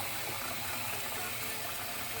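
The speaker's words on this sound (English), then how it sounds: "we put cold water, give them a big slosh like that" Cold tap water sloshing over dried peas being washed in a kitchen, a steady close wash of running and churning water with no pauses or voices.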